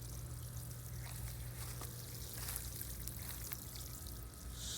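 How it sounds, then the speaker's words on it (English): Water pours steadily around the base of a small, newly planted persimmon tree, a continuous rushing splash with no voices. "So we'll get this watered in really well here."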